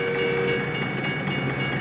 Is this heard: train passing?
yes